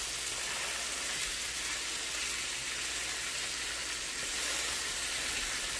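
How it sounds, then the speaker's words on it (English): Smash burgers with Vidalia onions sizzle on a hot griddle, a dense, steady hissing crackle that stays even and fairly close throughout with no voices. "it's okay to smash the burgers now since we just put them on"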